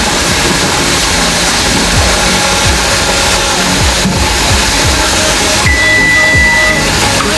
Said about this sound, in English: It's been steaming like this now for a steady 10 minutes.